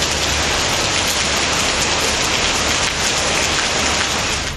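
Heavy night rain in Coimbatore, Tamil Nadu, during a thunder-and-lightning storm: a dense, continuous hiss of rain falling on surfaces, loud and even throughout, with no voices.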